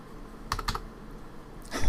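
Two quick clicks of the A key on a computer keyboard, close and distinct, then a third keystroke begins near the end against quiet room tone.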